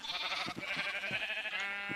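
Sheep in the Minecraft FTB Infamy mod pack bleat in a few short, nasal calls over a steady hum of game music, with no talking.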